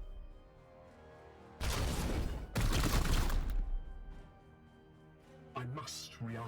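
Gunfire in Warhammer 40,000 Chaos Gate - Daemonhunters: two loud, dense bursts of shooting over a low game soundtrack, followed by a couple of shorter, fainter impacts.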